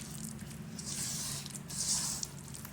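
Wet squishing and squelching as spice masala is mixed by hand for a Bangude (mackerel) fish fry, a close, steady mushy churning with brief louder squelches, no talking.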